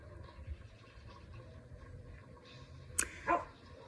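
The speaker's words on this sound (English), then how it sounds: "My dog's freaking out." A pet dog indoors barks once or twice sharply at the end, after a quiet stretch of low room noise.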